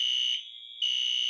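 A fire alarm sounds a steady, piercing electronic tone with bright overtones that dips in level for about half a second, then returns at full strength. No one speaks over it.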